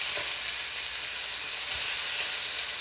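Keto burger patties sizzle steadily in a hot pan, a dense bright hiss that holds level and close for the whole stretch, with faint pops and no voices.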